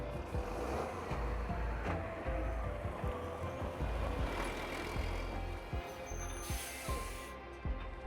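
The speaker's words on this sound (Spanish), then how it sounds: "Y pasan estos camiones humeantes." Smoking trucks rumble past on a road among construction machinery in Detroit, a steady loud low drone of heavy engines with a brief high hiss near the end.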